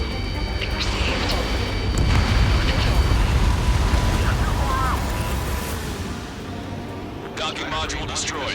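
A docking module explodes in the combat flight game Ace Combat 7, a loud sustained rumbling blast that swells and slowly fades amid jet and battle noise, with voices talking over it.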